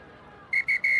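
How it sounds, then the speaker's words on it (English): A referee's whistle closes a Kenya versus Spain World Rugby U20 Trophy match with three sharp blasts, two short then a longer one, loud over faint crowd murmur. "Kat Roach does blow the full-time whistle"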